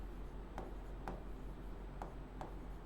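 Chalk or marker writing on a board during a maths lecture: steady scratchy rubbing strokes punctuated by a few sharp taps, close and clear with no talking.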